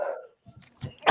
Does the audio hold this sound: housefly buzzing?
no